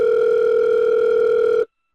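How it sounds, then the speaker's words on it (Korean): Continuous phone ringback tone while calling Jaehyeok, a loud steady two-pitch electronic hum lasting under two seconds and then stopping abruptly. "재혁이한테 전화 다시 해봐야겠다."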